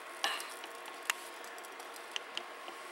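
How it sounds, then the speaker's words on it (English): Beef searing in a hot, heavy Dutch oven: a faint steady sizzle hisses underneath while a few sharp clicks and taps of utensils against the pot stand out, quiet and close with no talking. "Hear that sear?"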